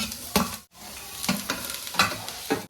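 Capsicum tossed and stirred in a hot pan with garlic paste, giving a steady sizzle broken by several scraping stirs of a spatula, close up and with no voices.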